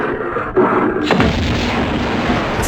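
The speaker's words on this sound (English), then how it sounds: "But that grenade launcher sure did help." Grenade launcher blasts in Tomb Raider 2 land as a couple of heavy booms layered over continuous game noise, with a sharp impact around the middle followed by sustained rumbling.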